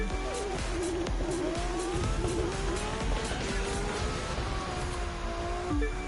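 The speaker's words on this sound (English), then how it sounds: "One touring car racing inside the dust storm." Touring car racing through a dust storm in The Crew 2: engines rev and whine through gear changes with tire squeal, a steady loud roar with no talk.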